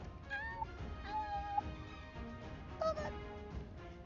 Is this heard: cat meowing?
yes